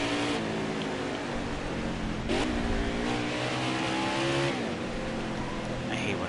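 A racing truck engine in a video game roars steadily, pitch climbing and dropping as it shifts up through the gears, with someone talking over it.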